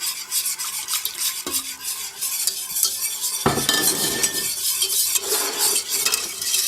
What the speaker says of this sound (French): on mélange bien pour bien détendre le roux